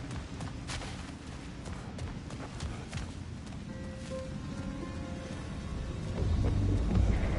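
Thunder rolls through a storm-ridden desert wasteland in Alfheim in the game God of War Ragnarok. A low, continuous rumble runs under rain-like hiss and swells louder near the end, with faint tonal game sounds mixed in.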